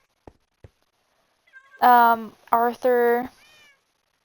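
Cats in Minecraft meow a few times in quick succession after a couple of faint clicks, with a person speaking briefly in between.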